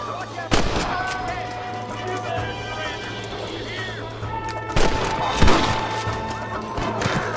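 Gunfire in Red Dead Redemption on PC: loud, sharp shots crack out in bursts over a steady background hum, with voices talking between them.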